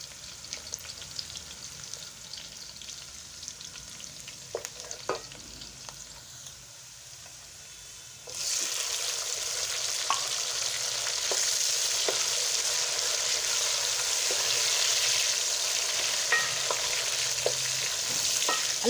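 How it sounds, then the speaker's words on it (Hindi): Onions fry in a pan for an aloo baingan curry, a steady hissing sizzle that grows suddenly louder and denser halfway through, with occasional clinks of stirring and no talk. "थोड़ा सा हम प्याज को हल्का सा ब्राउन कर लेंगे"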